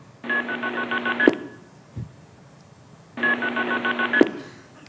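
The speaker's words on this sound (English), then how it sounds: "here's now an example of the call where the last digits are MF" Telephone call with multi-frequency signalling, the final digits sent as MF tones: two steady bursts of multi-tone signal about a second each, separated by a brief gap, each ending in a sharp click, clear and close with no talk.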